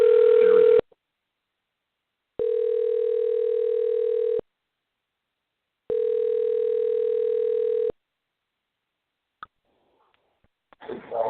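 Two long, steady telephone ringback tones sound with silent gaps between them, after a brief burst of line noise, and end in a few clicks and rustles as the call connects.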